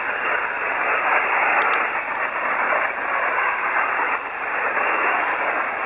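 Hiss of steady static from an amateur radio receiver tuned to a weak station during a Parks on the Air hunt, loud band-limited noise with the faint signal buried in it, no one talking.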